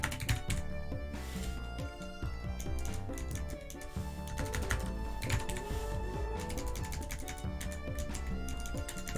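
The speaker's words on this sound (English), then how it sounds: "please just let me fucking type in Japanese" Fast, steady clatter of keys on a computer keyboard, close and continuous throughout, with dense overlapping clicks and no speech.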